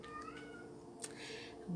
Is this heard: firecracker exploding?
no